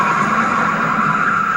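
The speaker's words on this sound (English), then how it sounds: "insufficient traction would cause the car to slide off the track" A NASCAR race car's tires skid and squeal as it slides sideways off a high-speed track, a loud continuous screech mixed with engine roar and no pauses.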